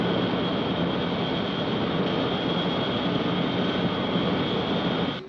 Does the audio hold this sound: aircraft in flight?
yes